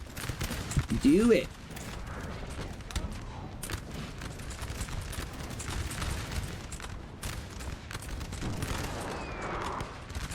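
Artillery fires on Russian troops in the battle game Napoleon: Total War, a heavy boom near the start followed by a steady rumble of distant gunfire and cannon blasts, with someone talking over it.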